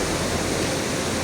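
Hot spring water pours steadily from the spouts at Pancuran 13 in Guci after a flood, a loud, dense rushing splash heard up close without any voices.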